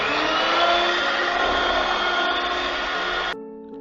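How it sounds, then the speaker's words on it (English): An electric mixer whirs loudly in a mixing bowl as it creams sugar with oil or butter, a steady high motor whine that cuts off abruptly near the end, leaving a faint hum. "In a mixing bowl, I'm going to add 1 cup sugar, half cup oil or butter, and now I'm going to cream this well."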